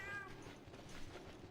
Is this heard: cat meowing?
yes